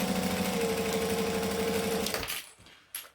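A sewing machine stitches a circle bag with piping, a steady rapid mechanical hum for about two seconds that then stops, followed by a brief faint clatter.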